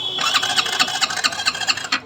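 A Hero HF Deluxe motorcycle's self-starter motor cranking with no petrol in the tank, a loud, close whirring grind pulsing in fast, steady beats for about two seconds, then stopping abruptly.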